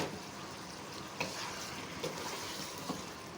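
Diced medium potatoes with green chillies stir-frying in masala for aloo pulao, a steady soft sizzle with occasional light scrapes of stirring, no talking.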